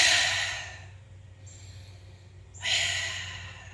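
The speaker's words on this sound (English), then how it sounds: "breathing through the nose, retain, retain, retain, release" Slow, deep breaths in and out through the nose during a yoga session: a long airy exhale, a quieter pause, then another strong rush of breath, close and unaccompanied.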